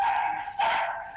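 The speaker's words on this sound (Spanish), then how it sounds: "¿Tenés un perro ahí ladrando a lo loco?" A dog barks wildly in a home, a couple of sharp, close yapping barks in quick succession, loud and alone.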